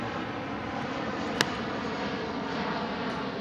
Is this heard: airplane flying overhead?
yes